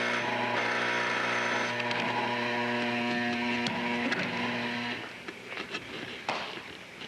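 A whirring, humming time machine effect from a 1970s–80s Phoenix children's TV show, with steady layered mechanical tones that hold for about five seconds before giving way to scattered clanks and quieter rattling.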